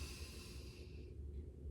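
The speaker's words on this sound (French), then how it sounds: "Inspire avec moi." A person draws a long, deep breath through the nose during an upper-body stretching exercise, a soft close airy hiss that fades out after about a second, quiet and without talking.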